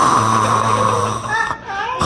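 A preacher imitating snoring with his voice: a loud, close, rasping drone with low rumbling tones, one long snore then a shorter drawn-out snort-like breath.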